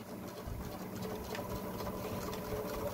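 A sewing machine runs steadily while back stitching a fabric mask, a close, continuous mechanical whir with a fast, even stitching rhythm throughout.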